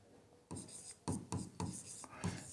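Pen scratching across a paper job application form, several short bursts of writing strokes close by with brief pauses between them.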